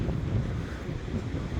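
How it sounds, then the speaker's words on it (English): Sea waves roll in at Blackpool promenade with a continuous broad rushing roar, heavily buffeted by wind noise on the microphone, steady throughout with no talking. "Go down and show you the waves again."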